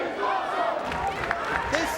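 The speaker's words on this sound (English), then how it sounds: "Listen to the crowd at the impact zone." Wrestling arena crowd at the Impact Zone during a TNA match, a dense roar of many voices chanting and shouting together, steady and loud throughout with a few sharper rises.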